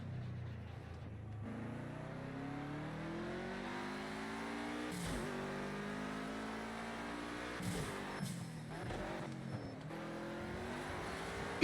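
A car engine in a racing video game revs and sustains a rising and falling drone. Gear changes and brief tire-scrub bursts break up the steady engine tone.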